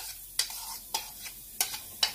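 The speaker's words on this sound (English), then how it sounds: "Now we're going to add in some of our Trinity mix" Cajun trinity mix of onion, celery and bell pepper going into a hot pan, with a soft sizzle under several sharp, evenly spaced scraping taps of a utensil.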